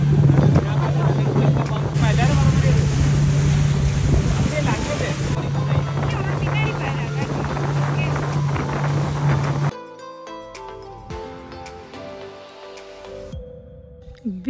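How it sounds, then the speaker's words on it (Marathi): A speedboat ride to Elephant Beach on Havelock Island, with a loud, steady engine drone and rushing water and wind for most of the ride, then a sudden drop to quieter idling with softer knocks and splashes near the end. "तिथे स्पीड बोटने आम्हाला एलिफंटा बीचवर नेलं"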